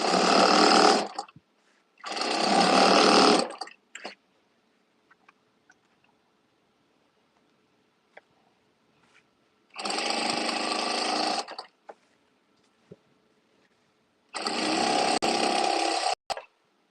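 A home sewing machine top stitches an Etsy order in four loud, steady whirring bursts of a second or two each, separated by quiet pauses with faint handling clicks.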